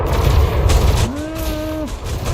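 Shock cannons fire in a space combat video game, a dense burst of rapid booming impacts followed by a rising electronic whine, loud and close.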